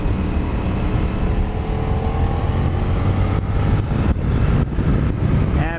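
A CFMOTO motorcycle accelerates gently out of corners on a winding road. A steady, loud roar of engine and wind fills the scene throughout, with no speech.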